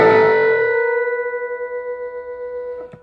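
A distorted electric guitar note, the G bent at the 14th fret, rings out loudly and slowly decays with a wavering, bent pitch, ending with a faint pick scrape.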